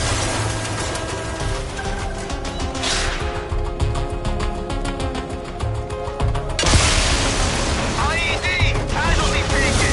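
IED explosion in the video game Mindseye: a dense crashing blast and debris clatter, then a second loud burst of noise, amid continuous battle sounds and shouting voices.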